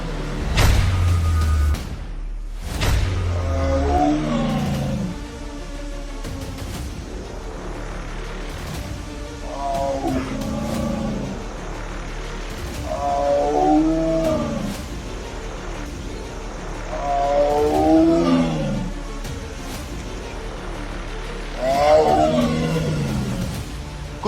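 A tiger sitting on a roadside culvert roars repeatedly, deep rising-and-falling calls recurring every few seconds over a steady low rumble of traffic, loud and close.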